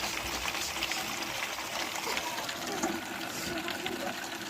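Water from a borewell pipe rushes and splashes into a bucket in a home kitchen, a steady near hiss with a gurgling trickle that holds throughout.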